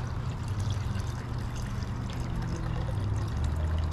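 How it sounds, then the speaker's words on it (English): Water sloshes and pours out of a gold panning pan outdoors in Old Town San Diego, a steady wet rush and trickle lasting several seconds. "Dump the water."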